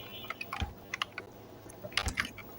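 Typing on a computer keyboard while writing in Microsoft PowerPoint, a few scattered close keystrokes and short bursts of clicks with no talking.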